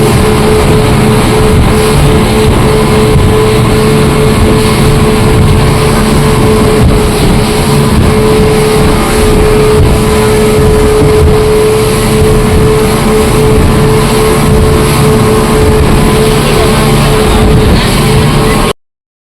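A motorboat on the ride to Pattaya gives off a loud, steady engine roar mixed with rushing wind and water noise, which continues without a break until it cuts off abruptly at the end.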